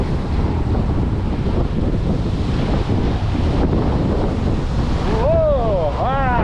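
Choppy water waves splashing against the Courtney Campbell Causeway during a windy bike ride, with steady roaring wind buffeting the microphone and loud surf throughout, and rising whistle-like tones near the end.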